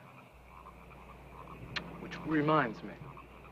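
Frogs croak at night, faint and scattered in the background, while someone speaks briefly over them.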